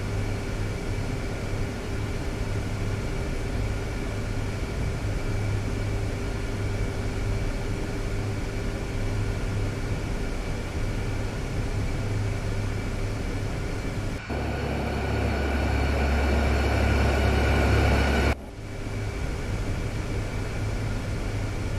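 C-130 Hercules turboprop taxiing in a flight simulator, a constant droning engine hum with steady tonal whine, loud and unbroken, briefly shifting to a harsher, noisier texture before settling back.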